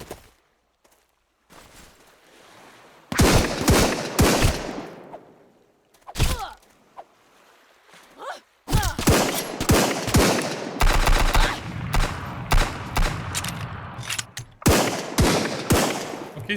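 Gunfire from human enemies in the SunkenLand video game: scattered single shots, then bursts of rapid automatic fire coming close together, loud and near with footsteps and thuds between volleys.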